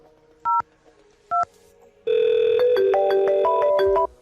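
DTMF keypad tones on a VoIP softphone call through a 3CX FreePBX server: two short separate beeps, then a long, loud run of overlapping dialing tones stepping through several pitches for about two seconds.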